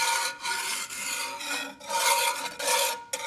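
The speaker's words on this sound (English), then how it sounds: "so now I'm gonna just whisk this all together" A whisk scrapes briskly through sauce in a cast iron pan, making loud, rasping strokes in a steady back-and-forth rhythm, close up and without talk.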